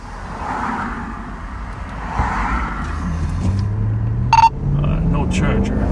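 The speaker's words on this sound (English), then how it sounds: "They got 2 cars coming at me." Cars on the road approach a patrolling sheriff's vehicle, heard as a low rumble with a rising engine whine that builds and passes, beneath steady interior hum and a voice talking.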